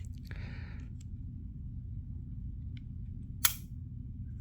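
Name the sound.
dry fire trigger click of a Ruger MAX-9 pistol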